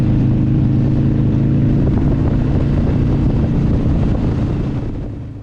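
Loud, steady engine drone and wind rush of Harley-Davidson motorcycles cruising on a road through the Waikato on a clear day, a continuous low rumble heard up close without talk, easing slightly at the end.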